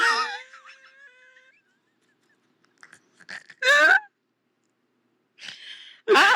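A voice mimics a duck's quack, a short burst of nasal honking sounds standing alone after a pause, with a second quacky vocal burst shortly after.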